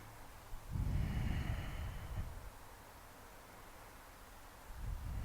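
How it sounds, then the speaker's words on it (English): Deep breaths during a yoga exercise come close to the microphone, one long breath drawing in and out in a soft airy rush, then a pause and another breath starting at the end. "Take 3 breaths here."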